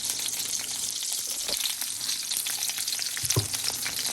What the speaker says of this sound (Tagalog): Luto tayo ng talong.